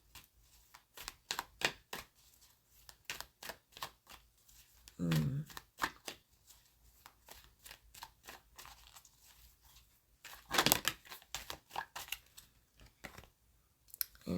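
Tarot cards being shuffled by hand, a series of close, crisp riffling snaps and flicks in irregular bursts, with a soft voice briefly murmuring partway through.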